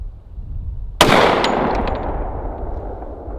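Single rifle shot fired at a target, a sharp loud crack about a second in followed by a long echoing tail that slowly fades outdoors.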